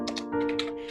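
A single Enter key pressed on a computer keyboard, a quick pair of close, crisp clicks and taps, brief and isolated.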